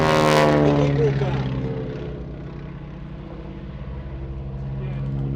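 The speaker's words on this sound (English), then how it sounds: "flying this Super Stearman on top of the wing, pulling probably around about 4G in some of those manoeuvres" A Super Stearman biplane carrying a wing walker roars loudly past at Sywell Airshow 2024, its engine and propeller drone peaking at first, then fading to a steady distant hum.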